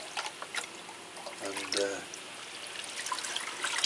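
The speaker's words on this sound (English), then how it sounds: "it's just a matter of pouring water through, isn't it?" Water trickles and splashes as it is poured through potted Cattleya orchids during feeding, soft and irregular with a brief fuller gush midway, while someone speaks a single word.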